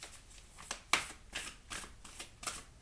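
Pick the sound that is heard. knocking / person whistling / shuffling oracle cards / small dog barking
shuffling oracle cards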